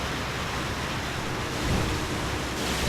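A waterfall roars in the video game Okami HD as a steady, dense rush of broadband noise, loud and continuous and swelling slightly, with no speech.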